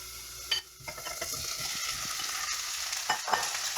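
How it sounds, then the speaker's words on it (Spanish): Chopped tomatoes tipped into a pan of onion and garlic already frying for a pomodoro sauce, giving a loud, steady sizzle with scraping stirs and a few clinks of utensil against the pan, and no talking. "Ahora vamos a añadir los jitomates."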